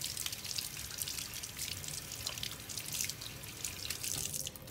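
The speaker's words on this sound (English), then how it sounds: "If I wash my hands, get all the slip off of my hands that I've created" Hands being rinsed of clay slip under running tap water, a steady close hiss of flowing water with dripping and splashing as the hands rub, continuous throughout with no talking.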